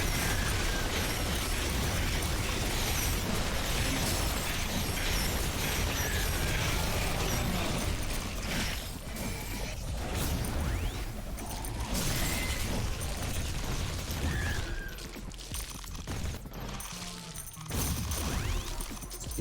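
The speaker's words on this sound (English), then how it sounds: "the artillery and the miniguns are doing plenty" Artillery and minigun fire in The Riftbreaker, a dense, continuous roar of explosions and rapid shots defending a base, loud and unbroken throughout.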